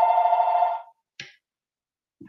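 An electronic telephone ring sounds clearly for under a second and cuts off, followed by a short knock or thump and a faint voice starting.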